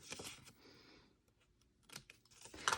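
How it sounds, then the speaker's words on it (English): Scissors cutting squares out of paper for a nail file gift craft: quiet, close snips and crisp paper rustles in short bursts, with a few louder clicks near the end. "Then I'm going to take my scissors and I'm going to cut out those 2 squares right there."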